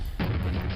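A Spawn monster bursts apart on death in Quake, a single sudden heavy boom that cuts in hard and then rumbles on briefly, loud and close.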